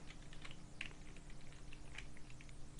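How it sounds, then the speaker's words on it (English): Quiet typing on a computer keyboard, a rapid uneven patter of light key clicks with a few sharper taps, close up and steady for the whole stretch, no voices. "I'm just going to type out the people"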